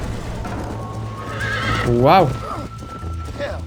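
A horse in the video game Red Dead Redemption gives a loud, wavering neigh over a steady clip-clop of hooves. A person talks briefly alongside it.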